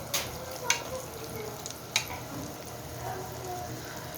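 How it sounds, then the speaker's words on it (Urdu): Peri peri bites deep frying in hot oil over a full flame, a steady low sizzle and bubbling with a few brief clinks, no talk. "یہ آئل ہیٹ اپ ہو گیا ہے، اب اس کو میں ڈیپ فرائی کروں گی"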